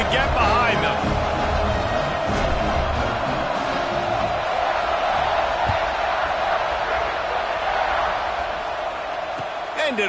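Stadium crowd in a Madden football video game roars in a sustained dense wash before a kickoff, with a play-by-play voice talking over it.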